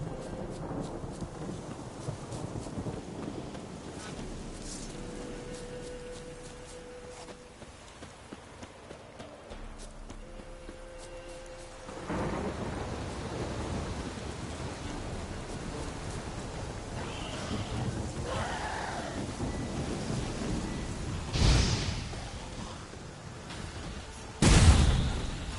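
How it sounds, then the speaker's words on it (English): In The Witcher 3 game world, a lightning strike and thunder break over steady rain, a sharp crack and loud rumbling burst rising late out of a long wash of rainfall and low ambient noise. "Lightning strike."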